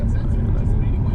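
Very large vehicle rumbling past close alongside on an Ontario road trip toward Ottawa, a steady loud low roar throughout, with a person talking over it.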